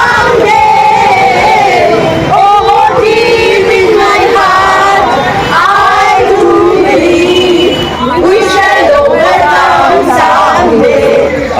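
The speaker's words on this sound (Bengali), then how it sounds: "মোমবাতি, প্ল্যাকার্ড হাতে মধ্যরাতে প্রতিবাদ মিছিল স্থানীয় মহিলাদের" Local women's midnight protest march with candles and placards starting from Rashmoni crossing, a loud dense crowd of voices chanting and shouting together continuously, close and sustained throughout.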